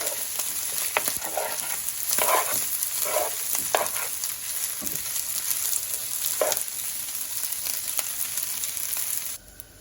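Rice with matchstick carrots and peas stir-frying in a hot pan, a steady crackling sizzle with scraping stir strokes throughout, nearby and alone without talk.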